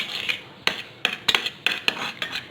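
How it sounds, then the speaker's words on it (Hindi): A spoon scrapes and clinks around a bowl while stirring an aloe vera gel mixture, a quick irregular series of close metallic taps and rubbing strokes. "इन दोनों को हम अच्छे से मिक्स कर लेंगे।"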